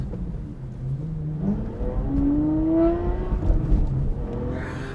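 An Aston Martin V12 with a manual gearbox roars steadily nearby, its engine note rising as it accelerates, with no talk over it.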